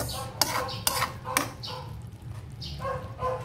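A utensil stirs string beans simmering in coconut milk in a pot, giving several sharp metallic clinks and scrapes against the pot at an irregular rhythm, close and fairly clear, with no talking.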